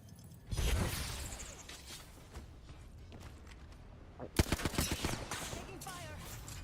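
Gunfire in the Apex Legends battle royale game: a burst of shots near the start, then a dense volley of sharp cracks and rapid automatic fire in the second half, with a player's voice talking over parts of it.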